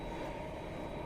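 A steady low rumble of a train at a Manila MRT station, continuous and fairly loud with no break across the short moment.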